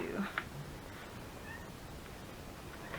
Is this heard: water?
no